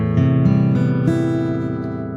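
A guitar with its D string retuned down to C is strummed once, close, and the chord rings out and fades over a couple of seconds.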